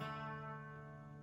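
A single plucked guitar note on the second fret of the third string, ringing steadily and sustaining clearly on its own, close and moderately loud with no talk over it.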